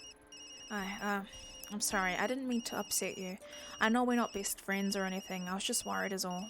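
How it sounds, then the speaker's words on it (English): A phone rings in the video game Tokyo Dark, a repeating electronic ring tone sounding in bursts under a calm voice of a character talking throughout. "Sorry, Yumi, that's my phone."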